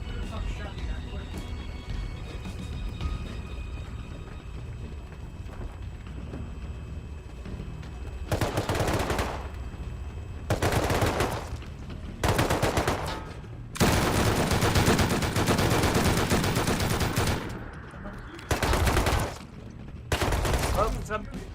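Gunfire in the survival game Rust: repeated bursts of rapid shots in distinct volleys, loud and close, separated by short quieter gaps with low background noise.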